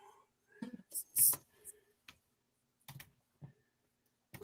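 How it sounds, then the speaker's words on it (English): Scattered bursts of computer keyboard typing, close and soft, arriving in irregular clusters with gaps between, mixed with breathy whispering. "I'm typing as quick as I can"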